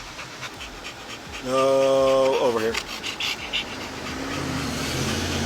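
A dog pants in a car seat close by, breathy rhythmic huffs with a brief whine, while people talk inside the vehicle.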